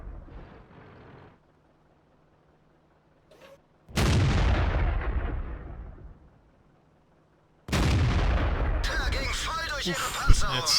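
Tank cannon fire in the World of Tanks video game, with a Tiger I in a historical battle: two heavy booming shots, each followed by a long rumbling decay, separated by near silence, with faint game sounds early on.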